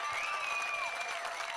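Stadium crowd at a junior men's softball game between Canada and Singapore, roaring and cheering steadily after a two-run home run, with whistles rising above a dense wash of voices.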